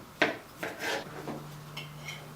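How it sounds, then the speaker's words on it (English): A knife cutting green peppers into thin slices on a cutting board: several crisp, close chops and rasping strokes in an uneven rhythm, the first one loudest, with a faint steady hum underneath. "So I'm going to cut my green peppers into like pretty thin slices."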